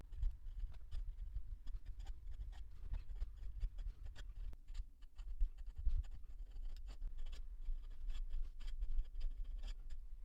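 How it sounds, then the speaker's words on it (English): A fountain pen writes on paper up close and quietly, giving soft continuous scratching with a steady stream of small strokes and taps and no talking. "I'm going to stop talking and just start writing"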